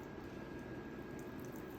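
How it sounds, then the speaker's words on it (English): Water forced through the large channel of an endoscope during cleaning, making a steady, loud rushing gush that runs unbroken from start to finish, close up and without voices. "water is just gonna shoot right out of this"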